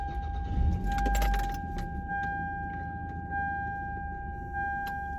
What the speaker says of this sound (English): Let me turn on the car.